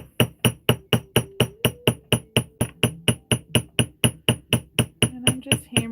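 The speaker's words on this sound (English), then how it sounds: "And I'm just hammering those." Rapid, steady hammer strikes on wire zigzag pendants being work-hardened, about twenty-five sharp metallic taps in even rhythm, close and loud with no talking.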